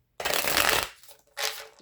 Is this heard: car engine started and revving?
no